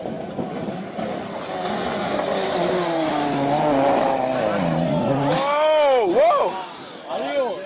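Robert Kubica's WRC rally car, driven by the former Formula 1 driver on the Monte-Carlo rally in the Alpes du Sud, roars loudly with rising and falling engine revs and sharp gear changes under continuous talk.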